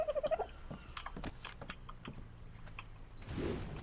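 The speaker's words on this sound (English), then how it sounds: "I'm going to let my dodo birds out as well." Dodo birds in the video game ARK Survival Evolved give a short run of clucking, gobble-like calls at the start, followed by scattered pecking and clicking sounds, all fairly quiet with no talk.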